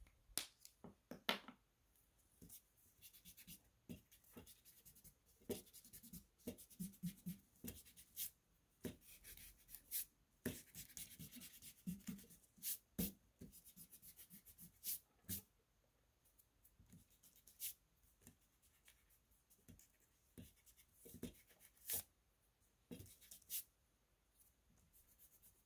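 A pencil scratches and an eraser rubs over paper while a figure-8 cat drawing is cleaned up, with short irregular strokes and scrubbing bursts, close and faint, no talking.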